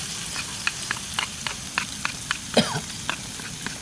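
Genjer (yellow velvetleaf) frying in a pan, with constant sizzling and crackling under a series of sharp utensil scrapes and taps as it is stirred, close by.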